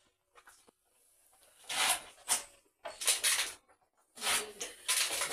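A knife cuts through cabbage in a home kitchen in three crisp, crunchy bursts of slicing separated by short pauses, close and fairly loud.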